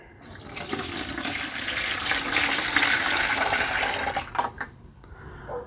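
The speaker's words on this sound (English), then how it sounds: "this material, then we're just going to dump into our gallon bucket here" Homemade deer repellent liquid dumped from a container into a gallon bucket, a steady rushing pour that runs for several seconds before tapering off with a few splashes.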